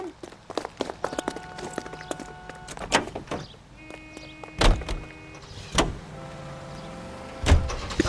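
A car in the video game L.A. Noire starts up and moves off, with door and mechanical clunks, tonal engine whines and several sharp hits spread across the stretch, under occasional voices.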